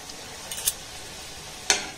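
Palm pitha frying in oil over a low gas flame, with soft sizzling throughout and two short bright crackles near the start and end.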